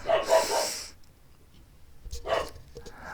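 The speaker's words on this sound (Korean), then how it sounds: "개가 짖네요." A dog barks in two short bursts, one at the start and another near the end, heard at moderate distance against a quiet indoor background with no speech.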